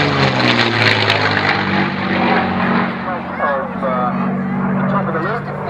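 A P-51 Mustang propeller plane drones steadily through a loop, its engine a loud sustained roar with a low throbbing tone, and a voice talks faintly beneath it.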